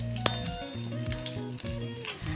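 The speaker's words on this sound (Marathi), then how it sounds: "मिडियम टू लो गॅसवर हे तेल आहे हे आपल्याला उकळून घ्यायचं आहे" Hibiscus flowers, stems and curry leaves simmer in hair oil over a medium-low flame, a soft, steady sizzle and bubbling close by, with a sharp clink near the start and occasional background hum.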